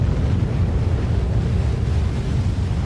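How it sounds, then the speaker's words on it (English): Huge ocean waves breaking at Mavericks, a dense continuous roar of surf with heavy low rumble and wind buffeting, loud and unbroken with no voices. "The waves at Mavericks are huge."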